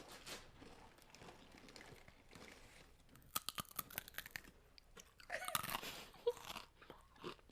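Cap'n Crunch cereal being chewed close to a microphone, with quiet irregular crunches that grow into denser bursts of crisp biting toward the end, and no talking.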